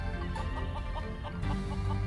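A black chicken in the Murders on the Yangtze River video game clucks in a steady series of short, repeated calls over a continuous low background hum, moderately loud throughout.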